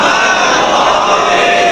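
A congregation at an imambargah majlis during Ramadan recites salawat together, a loud, dense unison of many voices that fills the short moment without a break.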